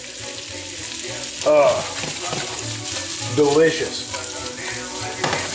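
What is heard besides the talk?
food being tossed and cooked in a pan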